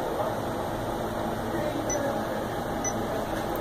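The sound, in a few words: vacuum pump running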